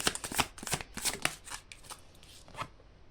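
A deck of tarot-style cards is shuffled by hand in quick riffling bursts, crisp and close, thinning out toward the end with no talking.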